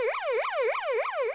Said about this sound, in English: It has an emergency siren.